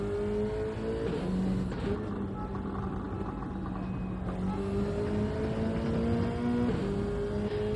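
A race car engine in an online racing game roars onboard, revving and shifting through rising and falling tones continuously at close range, with a faint voice underneath.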